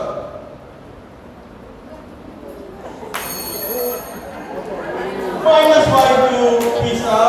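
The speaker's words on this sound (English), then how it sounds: "It's the famous Nokia ringtone." Classic Nokia mobile phone ringtone melody playing at a school inter-house quiz competition, entering partway through over a murmuring crowd and growing louder with chatter around it.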